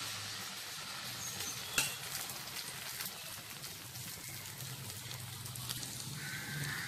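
Cassava adai batter fries in ghee on a hot pan, giving an even, continuous sizzle like light rain with one sharp tap partway through, and no one speaking over it.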